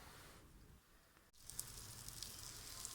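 Butter hits a hot frying pan heated over a wood-fired stove and starts sizzling, a steady hiss that swells suddenly partway through with small pops, close and fairly quiet.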